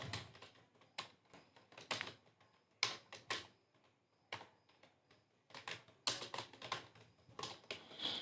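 Typing an address on a computer keyboard, close quiet key clacks in irregular bursts with short pauses between words, no voices.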